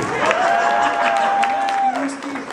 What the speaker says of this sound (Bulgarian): Аплодисмент за Ги!